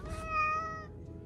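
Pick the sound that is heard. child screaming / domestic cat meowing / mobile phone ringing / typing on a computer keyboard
domestic cat meowing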